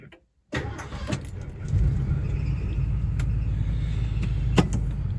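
After a moment of silence, the engine of a car called Herr Cougar cranks and catches, settling into a steady, close, deep rumbling idle with a few faint clicks and knocks.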